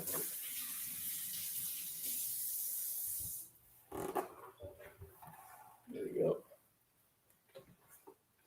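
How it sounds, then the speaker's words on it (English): Tap water runs with a steady broad hiss while hands are washed at a sink, then cuts off, followed by scattered faint clinks and brief speech. "I gotta wash my hands"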